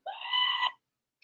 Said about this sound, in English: The screaming goat.